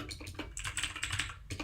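Fingers type on a computer keyboard while writing Swift code: rapid, irregular clicks and clacks at close range, steady throughout with no voices.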